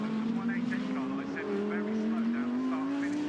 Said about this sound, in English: So that's the Attempto Audi that runs a little wide coming out of paddock, now makes that run up the hill.